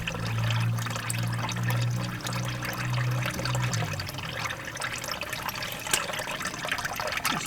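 Oil draining from a Polaris Ranger into a pan makes a soft, steady trickle and splash. A low hum fades out after a few seconds, and faint pouring and dripping go on after it.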